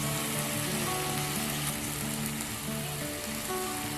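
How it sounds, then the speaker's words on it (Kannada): Fenugreek greens (methi palya) frying in a pan for a North Karnataka–style dish, a steady dense sizzle that stays loud and even throughout. "ನೀರು ಹಿಂಗೋವರೆಗೂ ನಾವು ಇದನ್ನು ಫ್ರೈ ಮಾಡ್ಕೋಬೇಕು"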